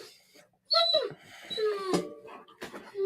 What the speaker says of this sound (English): Yona's upset because his mama taking one of the other dogs for a WALK.